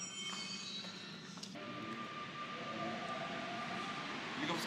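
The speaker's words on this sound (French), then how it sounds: "Donc, là on attend le métro là." A Paris metro train rolls into the station with a steady rumbling roar and thin wheel squeals, moderately close and continuous, with no one talking.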